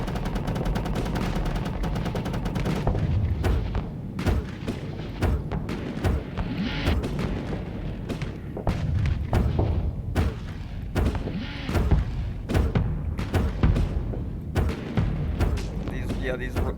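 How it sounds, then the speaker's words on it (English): Light rail guns fire in the Starsector space game as rapid, repeated punchy shots and thuds over several bursts, loud and dense, with intermittent impact booms. "These light rail guns are doing a way better job than the original chain guns that I put on there."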